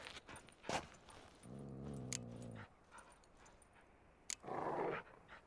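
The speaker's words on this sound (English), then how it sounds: "Sit, you stupid mutts, lie down." Fighting dogs in The Witcher 3 whimper and whine in a drawn-out, tonal cry, followed later by a breathy pant-like burst, mixed with jangling and clinking game sounds.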